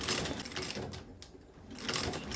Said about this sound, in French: calibré la machine et ensuite exécuté la couture sans créer de trous supplémentaires